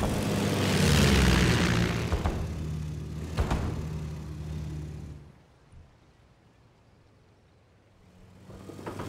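Propeller fighter planes in the WWII strategy game Company of Heroes, engines droning loud and close with a sharp crash partway through, then fading to quiet before another rise.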